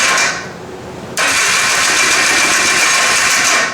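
A rebuilt 250 Trail Blazer engine catches and runs steadily, loud and close, a brief dip settling into a strong, even idle with no voices.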